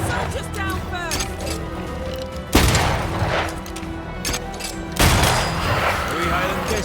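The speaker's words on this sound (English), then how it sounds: "I think I heard the sound of a gun." Soldiers' gunfire in the video game Banishers: Ghosts of New Eden, a loud rolling fusillade of shots with two heavy booming bursts, mixed with game noise and voices.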